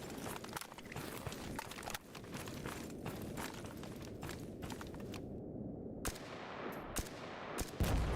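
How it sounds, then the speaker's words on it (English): Gunfire in a survival video game, heard as a busy stream of sharp cracks and bursts set against a constant rustling background, with a few louder, clearer shots standing out near the end. "Let me go around to the hill and shoot it real quick"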